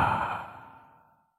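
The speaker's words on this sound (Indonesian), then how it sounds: "Tarik nafas hu." A single deep breath drawn in during a breathing exercise, heard close and alone, swelling at first and then tapering off smoothly over about a second.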